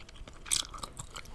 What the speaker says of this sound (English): gum chewing